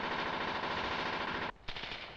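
Sustained automatic machine gun fire laid down as supporting fire during a village fighting exercise, a loud, dense rapid stream of shots that cuts out briefly near the end, then resumes with a sharp burst.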